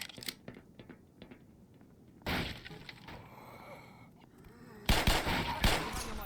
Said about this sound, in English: It is a semi-auto shotgun as well